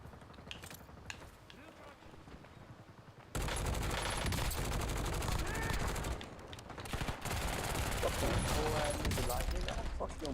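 Rapid bursts of video game gunfire, sustained machine-gun fusillades that jump sharply louder after the first few seconds and stay dense and loud, with a voice speaking beneath the din.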